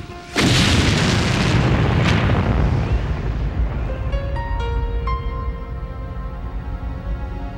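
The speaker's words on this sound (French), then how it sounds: "Elle ouvrit le couvercle et déclencha une explosion fatale." A loud, sudden bomb explosion bursts out and then rumbles on, with a long booming roar that slowly fades. Faint ringing tones linger in the decay.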